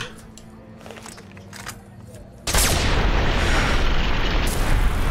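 A sudden loud explosion in the Fallout: New Vegas video game bursts in midway after a quieter stretch, followed by a sustained roaring, crackling blast that fills the rest of the clip.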